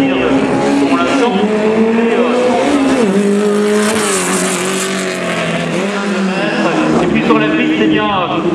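Race car at a slalom event in Saint-Lô, engine revving loudly and shifting pitch through gears and turns, close and continuous, with a commentator talking over it.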